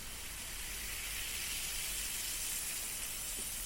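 Fizzing ear drops bubbling inside an ear during an ear-cleaning session in the rain, a steady close hiss that holds at even loudness without a break.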